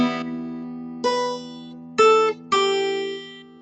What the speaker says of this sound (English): I'm letting this low E string ring, and that gives it a nice echoey feel.